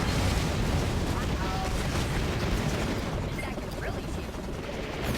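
A gunship blowing up during a Battalion Wars battle, a loud, rumbling burst of explosive noise that keeps roaring with crackling debris and mechanical clatter for several seconds.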